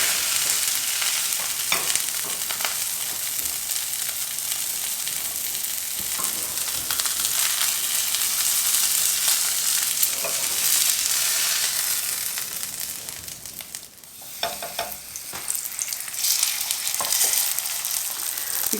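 Fish meunière fillets, fairly thick, fry in a hot pan with a steady, dense sizzle and crackle, occasional spits and pops, a brief dip in intensity midway before the frying swells back up, no voices.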